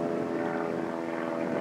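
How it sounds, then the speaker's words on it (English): An airplane drones overhead in a steady, continuous hum, fairly loud and even throughout, outdoors with no speech. "And there's another airplane."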